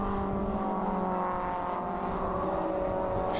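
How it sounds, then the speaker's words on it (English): A Porsche Boxster race car roars past during a wet race at Silverstone, a loud, continuous engine note held close throughout. "There's number 6 Porsche coming flying through"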